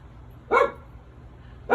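Boo, an elderly dog, gives two sharp barks about a second apart, clear and fairly close against a quiet morning room.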